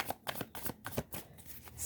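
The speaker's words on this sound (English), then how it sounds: "Let's just get some cards out." Tarot cards shuffled by hand, a steady run of crisp riffling flicks up close, moderately loud with no talking.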